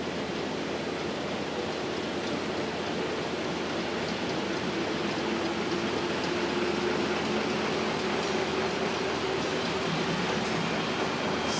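A sheetfed printing press runs steadily while turning out printed sheets, a dense, even mechanical rush with a faint hum and no breaks, loud and continuous throughout.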